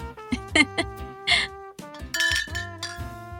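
Glasses clink together in a toast with bright ringing tones and a few repeated strikes, set within a dramatized scene with music-like tones and talk underneath.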